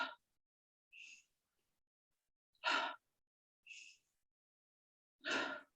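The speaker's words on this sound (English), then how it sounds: "you see I'm kind of pushing the air out" Deliberate breathing in a thyroid breathing exercise: breaths alternate with forceful pushed-out exhales, roughly five audible breaths separated by silence, close and clear, no talking.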